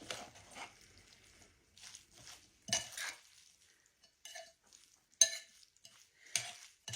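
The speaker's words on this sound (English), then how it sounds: "And I'm looking as I'm stirring because I'm trying to see if it's gooey enough" A spoon scrapes and knocks against a bowl while stirring a thick mayonnaise salad, sparse close clinks and short scraping strokes separated by quiet pauses.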